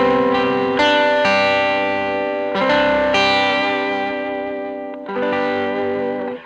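A Gretsch electric guitar, either the 6120 Eddie Cochran or the G5622T Electromatic, rings out through effects with chorus, echo and light distortion, chords struck three times and left to sustain and slowly decay.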